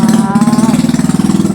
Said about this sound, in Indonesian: aduh ini motor ya